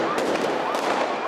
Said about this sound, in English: as fireworks were hurled at police.